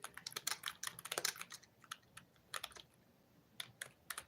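Fingers tap out uneven bursts of clicks on a computer keyboard whose keys are sticking, with close, crisp keystrokes clustered in quick runs separated by brief pauses.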